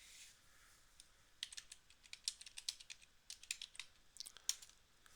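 Someone types a place name into the Google Maps search box on a computer keyboard. The keystrokes are close, quick and uneven clicks that come in small clusters over faint background hiss.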